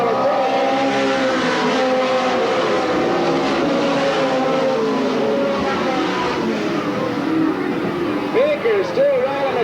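Race cars come out of turn four at Sandusky Speedway in 1985, a steady loud engine roar with a rising, revving drone, heard under a commentator's continuous talk.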